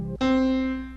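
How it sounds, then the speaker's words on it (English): A single sustained middle C note, a clean synthesized or keyboard tone with steady harmonics, enters abruptly after a short lower sound and holds for most of the second before fading slightly, played alone. "On the staff, the middle C looks and sounds like this."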